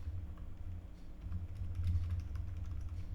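An article title being typed on a computer keyboard, soft quick keystrokes tapping in an irregular run, faint and close against a low background hum.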